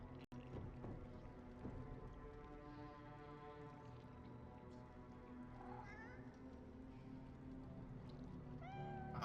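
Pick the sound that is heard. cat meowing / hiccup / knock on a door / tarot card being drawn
cat meowing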